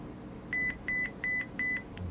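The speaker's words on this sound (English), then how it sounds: "in a second here you're going to hear my cell phone go off" Cell phone text-message alert: four short, evenly spaced high beeps, fairly clear above a low steady room hum, with no talking.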